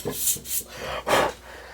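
Sandpaper rubs back and forth on the brake track of a bicycle rim to remove oil, road grime and old pad material, giving several close, rhythmic abrasive strokes with short pauses between them.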